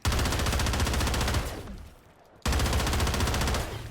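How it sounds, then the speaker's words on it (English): Rapid automatic fire from an HRM9 in a video game, a dense buzzing stream of ray-gun-like shots that stops briefly and resumes, loud and close with no voices. "Has a really cool sound effect. Sounds like I'm shooting a ray gun or something."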